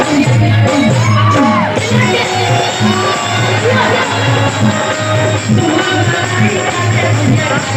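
A Bhojpuri stage show audience shouts and whoops loudly throughout, a dense crowd roar with individual yells and rising calls over a steady background of amplified sound.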